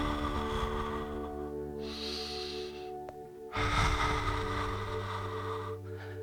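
Audible breathing during a Pilates exercise, with two long, noisy breaths, one around the middle and a fuller one after a brief pause, heard close against a steady low background hum.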